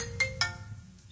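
A phone's electronic ringtone gives two short tonal pulses in quick succession, moderately loud over a low background hum, with no talk during the ring.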